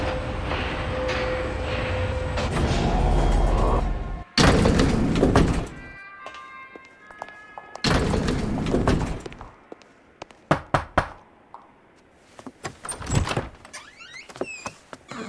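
Elevator machinery hums, then doors slide and thud in the video game LA Noire, with separate bursts of mechanical rumble and door movement broken by quiet gaps and a few sharp clicks near the end.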